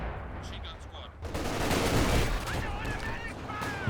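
A flame mortar and Katyusha barrage in Company of Heroes 2 erupts after a quieter start into sustained loud rumbling fire and explosions, with whistling streaks over the din.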